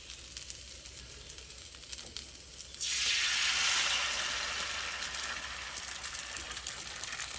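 An egg drops into a mold on an oiled Blackstone griddle, then a loud, steady close-up sizzle swells and holds, with no voices.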